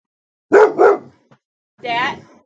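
A 19-month-old dog barks twice in quick succession, loud and close, then lets out a longer, whining vocal after a short pause, with a faint sound at the very end.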